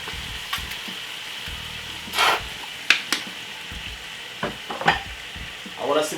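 Jamaican stew chicken simmers and sizzles in a pot as ketchup is added, with a steady low bubbling broken by several sharp stirring scrapes and clinks.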